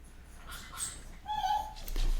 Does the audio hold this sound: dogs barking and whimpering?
yes